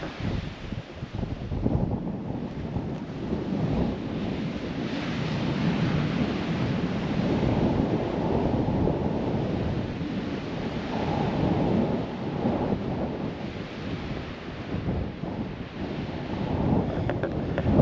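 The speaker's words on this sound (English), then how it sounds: "the wind's a bit stronger today" Strong wind roars steadily across a Cornwall clifftop above a 300-foot drop, a loud broadband rush that buffets the microphone throughout with gusty swells and no pauses.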